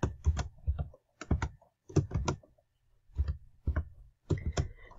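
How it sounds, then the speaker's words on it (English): A username and password are typed on a computer keyboard in short bursts of crisp, close key clicks separated by brief pauses. "Make sure you type it in correctly, your username and your password"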